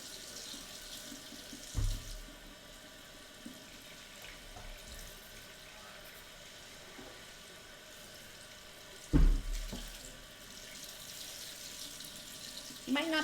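Hot water runs from a kitchen tap into a sink as a steady, quiet rush, broken by a couple of soft thumps from dishes or a sponge.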